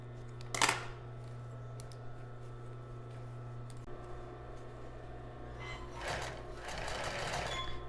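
A household sewing machine stitches a child's bra, humming steadily underneath with a short clattering burst early on and a longer, louder run of stitching near the end.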